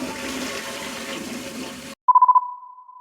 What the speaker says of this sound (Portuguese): alguém tava dando descarga sempre que a Daphne falava